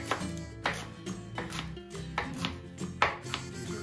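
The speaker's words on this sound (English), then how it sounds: "just chop everything up pretty nicely" A chef's knife chops fresh herbs on a cutting board for chimichurri, quiet steady thuds in a loose rhythm of about two or three strikes per second.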